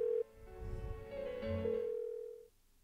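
An unanswered telephone rings in the Persona 4 Golden video game, a steady electronic tone held for a couple of seconds over a low, murky game soundtrack before cutting off.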